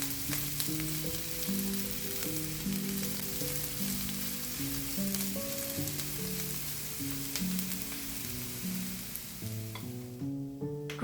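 Food fries in a pan with a steady soft sizzle and occasional stirring clicks, heard low beneath a gentle melodic music track that plays throughout.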